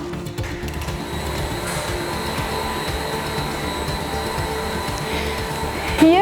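A glue melting machine workshop hums with steady, moderate factory machinery noise, a continuous whirring drone with faint clicks and no one talking.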